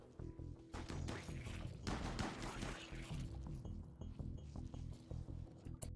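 Gunfire from colonists in the video game RimWorld, a dense run of rapid shots and impacts that is continuous and fairly loud, with no talk over it.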